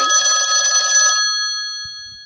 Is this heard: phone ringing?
yes